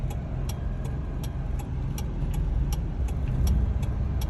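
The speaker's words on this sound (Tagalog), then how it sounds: "Ngayon, ang dami ng sasakyan." Traffic at a street corner in San Ildefonso, with engines rumbling steadily and cars passing close by, plus a faint regular ticking over the noise.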